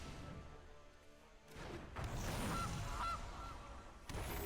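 A honking goose sound effect plays for the Gilded Goose card in the Magic Arena digital card game, with a couple of nasal honks over a dense, busy game soundscape.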